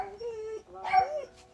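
Indoor dogs reacting to something outside, giving a high drawn-out whine followed by a yelping bark and a short whimper, fairly close and loud.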